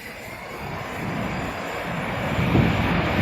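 Jet airliner touching down at an airport, a steady broadband engine roar that swells slightly toward the end, heard from a distance with no voices.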